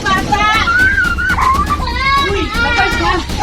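A child cries and pleads with arguing parents during a tense family gathering at a birthday party, wailing loudly and continuously amid other voices.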